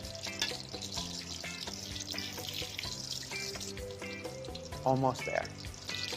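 A pork Milanese cutlet fries in a pan, browning golden, with a soft continuous sizzle beneath background music and a brief spoken remark near the end.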